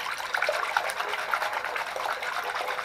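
Mild wool wash poured from a cap into a basin of cold water, heard as a steady close splashing trickle lasting a few seconds, with no voices.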